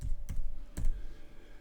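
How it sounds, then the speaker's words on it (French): Two quick close keystrokes on a computer keyboard while a word is typed, crisp separate clicks less than half a second apart over a low room hum. "je vais taper par exemple building"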